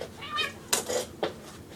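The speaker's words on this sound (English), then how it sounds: "Sorry, my cat was on my computer." A house cat meows near a computer, giving a few short, close calls in quick succession, fairly loud and with no talking over them.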